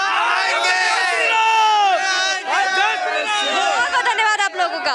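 Large crowd at an Uttar Pradesh election rally, with loud dense chatter, cheering and shouting voices blending into a continuous roar, with bursts of whoops throughout.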